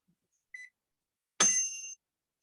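A kitchen timer gives one short electronic beep, then a louder, harsher beep about a second later that rings for half a second, both close by in a quiet room with no talking.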